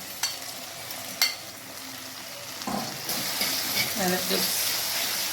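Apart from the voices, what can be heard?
red herring frying in a pot with vegetables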